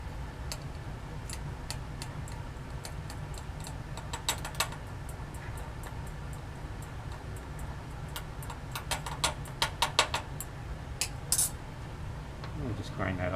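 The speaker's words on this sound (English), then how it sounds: "I'll just grind that up a little bit." A sample is ground in a small mortar and pestle from a lab kit, giving light irregular clinks and ticks of pestle against the bowl, close and fairly quiet over steady background hiss.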